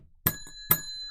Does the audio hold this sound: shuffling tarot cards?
no